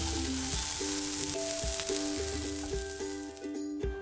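Chicken pieces frying in about four teaspoons of oil for a spicy coconut chicken curry, a steady close sizzle with scattered pops and light stirring clinks.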